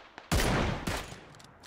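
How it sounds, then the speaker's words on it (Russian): Gunfire in the battle royale game PUBG: a loud, close burst of shots, a brief pause, then a second shorter volley fading out. "Давай выстрелим ему в спину, готов?"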